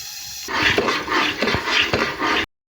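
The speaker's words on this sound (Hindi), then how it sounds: "इसमें पानी शामिल करेंगे।" Water poured into besan halwa cooking in a pan, a steady splashing, sizzling rush lasting about two seconds, close and fairly loud, ending abruptly.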